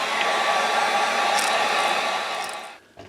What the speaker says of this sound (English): we're going to have to take the heat gun. We're going to have to dry this off really good